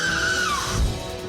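A rider on a circus-themed amusement ride lets out a sustained high scream that slides downward in pitch, loud and close, with a low rumble of the ride beneath it.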